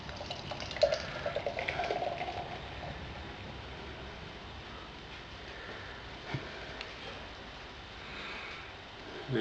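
Beer pouring from a can of Hawkers Yeast To West, brewed with Kveik yeast, into a glass: a soft liquid gurgle and fizz, louder at first and then settling into a quiet, steady foaming hiss.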